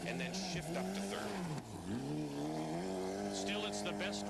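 A 1999 rally car engine held high near the rev limiter in first gear on a stage rally road, a loud sustained buzzing whine with a brief dip and recovery, with a voice talking over it.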